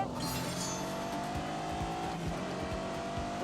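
A 626-horsepower car in a Grand Tour racing video game launches hard from a standstill. The engine roar climbs steadily in pitch with rhythmic gear-change pulses and a hint of tire squeal.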